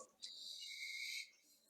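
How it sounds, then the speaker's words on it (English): A slide whistle sound effect, a bright sustained whistle tone that bends and shifts in pitch over about a second, fairly loud and heard alone. "A slide whistle sound effect."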